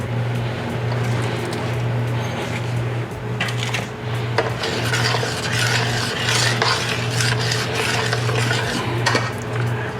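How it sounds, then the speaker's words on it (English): Bacon is stirred into a pot of thick non-dairy clam chowder, with continuous close scraping and clinking of a utensil against the pot over a low steady hum, no voices. "Gonna add the bacon."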